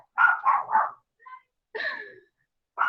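A dog gives three quick barks in a row, then a short yelp-like call after a pause and another bark starting at the end, loud and close with silence between.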